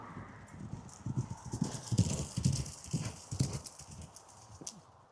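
Racehorse Kamaxos walking with a steady clip-clop of hooves close by, mixed with heavy snorting breaths and an occasional soft whinny, fairly loud and clear with no talk.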